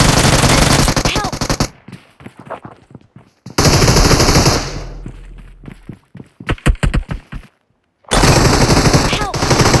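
World of Warcraft gunfire crackles in loud, dense bursts of rapid shots, breaking off into short gaps and scattered single reports before the heavy firing starts up again.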